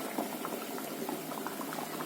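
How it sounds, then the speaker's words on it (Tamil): Vegetarian fish-style curry with aubergine simmering in a pot, a steady close bubbling and popping with soft liquid gurgles throughout, no voices. "நல்லா கொதிச்சு வந்துருச்சு"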